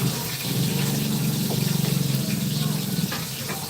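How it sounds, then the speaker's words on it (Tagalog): Used dishes washed under a running tap: a steady splash of flowing water in a sink, with a brief rising gush near the middle and faint clinks, moderately close, with no talking. "Tugasan ko muna itong mga ginamit ko."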